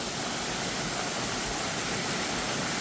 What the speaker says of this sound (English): So here we are on the back side of this waterfall.